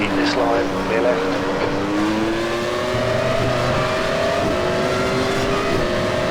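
F1 cars from the 1996 season race at Interlagos in a racing sim, one engine note rising and shifting through gears with layered whining tones, under a continuous bed of other cars and occasional talk.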